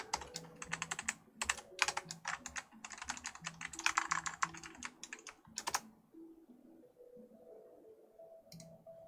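Fast, busy typing on a computer keyboard for several seconds, a dense stream of sharp key clicks that stops abruptly, leaving a low hum and one last faint tap.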